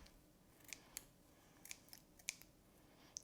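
Small scissors snip through pieces of tinsel in a handful of crisp, separate clicks spaced irregularly over a quiet background, close and faint.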